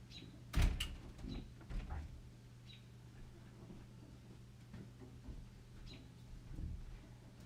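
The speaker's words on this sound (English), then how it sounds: "I'm just gonna go and make sure the door's shut." Indoor door pushed shut, with a dull thud near the start and a few softer knocks afterward over a steady low room hum.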